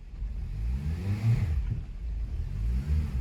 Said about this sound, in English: I'm going to go ahead and try to accelerate into reverse